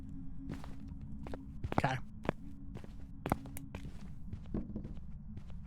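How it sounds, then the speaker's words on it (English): Ghost footsteps in the horror game Phasmophobia, a series of soft, irregular thuds and scuffs spread across the clip over a steady low hum, with a player's brief spoken remark. "I can hear those footsteps well before that flashlight blinks."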